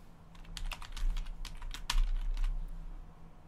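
A short burst of close computer keyboard typing as a contest winner's name is entered, with quick irregular keystrokes and a few heavier taps.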